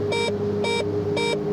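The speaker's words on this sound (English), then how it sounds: "Why are you giving me an alarm now?" A cockpit alarm in the X-Plane 11 flight simulator game beeps three times in an even rhythm, short bright electronic tones over a steady engine hum.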